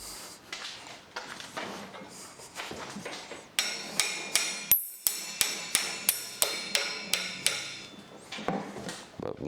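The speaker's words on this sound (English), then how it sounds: "I'm gonna need the hammer because it's super tight." A hammer raps sharply on a tight part while a car's pedal box is assembled, first a few scattered knocks, then a rapid, steady run of a dozen or so crisp strikes.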